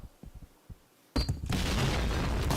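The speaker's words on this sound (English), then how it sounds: "Smokes in, explosions aplenty." Explosions go off in a tactical shooter match, with a sudden loud blast after a second of quieter rumbling. A dense, sustained roar of fire and debris follows at close range.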